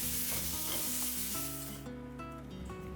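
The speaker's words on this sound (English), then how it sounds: "I'll add chili powder, coriander powder and cook for just 2 more minutes till oil leaves its sides" Mashed potatoes with chili and coriander powder sizzle steadily in an oily pan while a spoon stirs and scrapes them, with the hiss gradually easing; close and fairly quiet.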